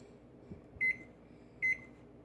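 An oven control panel gives two short, bright electronic beeps, evenly spaced and close, over a quiet kitchen hum while the oven is being set to preheat to 375.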